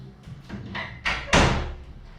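A door being shut indoors: a few soft shuffling and swinging sounds build up, then one firm closing thud near the end, moderately loud and close.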